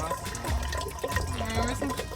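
Water trickling slowly through a worn van water filter into a bottle, a continuous close liquid gurgle with faint bubbling tones and light splashing.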